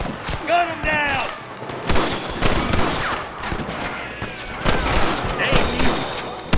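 Gunfire rings out in the Western video game Red Dead Redemption, with sharp repeated shots and bursts among whistling and ringing effects while voices call out across the fight.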